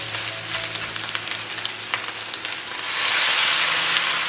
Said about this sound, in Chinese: 锅里油温热了，先爆香姜蒜。 接着加入牛杂， 炒香了之后淋入料酒